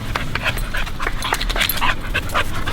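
A young female rescue dog pants rapidly and lets out soft whimpers and yips, close by and fairly loud, in a steady excited rhythm with faint background noise.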